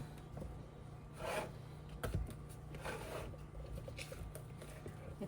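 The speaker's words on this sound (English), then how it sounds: "I'm going to scrape the sides of my bowl down real quick" Spatula scraping the sides of a mixing bowl of keto cookie dough, two or three soft rasping strokes with light knocks between, quiet and close.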